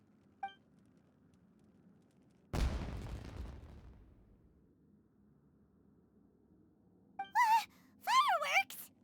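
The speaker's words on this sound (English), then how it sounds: "Was that an explosion? It sounded like fireworks." A single loud fireworks-style explosion bursts in the Genshin Impact video game and rumbles away over a couple of seconds, with a short vocal sound before it and gasping voices afterward.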